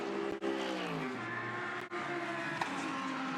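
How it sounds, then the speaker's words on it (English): A Porsche GT3 race car on the Shanghai International Circuit pulls into the pit lane during a China GT race, its engine note droning and shifting pitch under a loud sustained roar, with brief dropouts and no voices. "The 96 Porsche would come straight into the pit lane, followed by the Climax Racing Mercedes"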